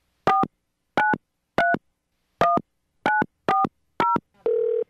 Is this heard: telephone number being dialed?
yes